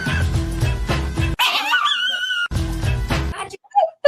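A person's voice imitates a dog, giving a couple of yipping, whimpering barks close up between stretches of other vocal noise.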